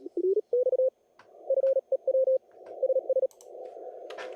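Amateur radio receiver audio during a CW Morse contest, a clear steady tone keyed in short dits and dahs over a faint hiss, with a few scattered clicks and brief static crackles.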